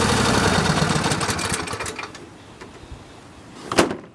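John Deere e160 lawn tractor engine shutting off: the running engine drone fades and winds down over a few seconds, leaving quiet, then a single clunk near the end.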